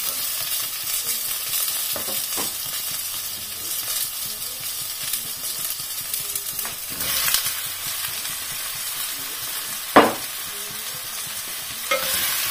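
Squid rings frying in a hot pan give a steady, loud sizzle and crackle throughout, with a few sharper pops and utensil clinks near the end.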